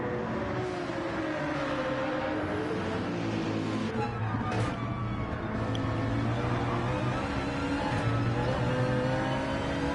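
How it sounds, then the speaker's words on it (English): A GT race car engine in Gran Turismo 7 on the Nürburgring, a steady loud drone holding high revs with harmonic tones that rise and dip through gear changes, continuous for the whole stretch with no talk. "Imagine that GT race car is going to be quite quick on the straight"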